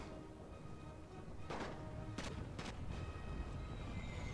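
Artillery fire in a Great War strategy game about the Russian Empire: a few sharp booms burst over a steady low rumble, around three distinct blasts in quick succession mid-clip against a continuous background din.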